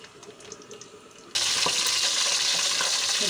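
Cumin seeds hit hot oil with a sudden loud, dense sizzle that starts partway through after quiet background and crackles steadily to the end.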